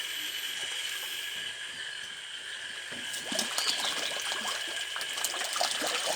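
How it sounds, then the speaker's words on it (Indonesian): Tilapia in a green pond splash at scattered feed pellets, a steady watery wash that breaks into bursts of close, lively splashing partway through. "ternyata masih lahap dan langsung merespon pelet yang saya taburkan di kolam"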